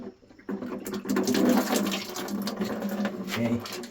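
Water drains out of a sediment filter housing in a steady, close gurgling rush that starts abruptly and runs without a break.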